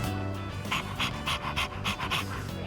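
Dog panting in the Persona 3 Reloaded video game, a steady rhythm of quick breathy huffs repeating close by over a low game music bed, with no talking.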